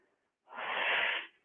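One sharp, breathy inhale during a workout rep, a short hissing rush of air close to the microphone that rises and falls within about a second.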